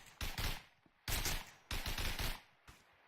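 Gunfire in the WW2 shooter Hell Let Loose: loud bursts of rifle and machine-gun fire in three or four clusters of rapid, sharp shots, with short pauses between volleys.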